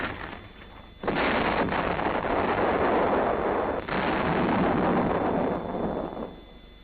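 Enemy artillery shells pound a defensive position in a roaring barrage: a sudden loud blast opens a long stretch of rumbling detonations, another heavy burst follows midway, and the noise fades at the end.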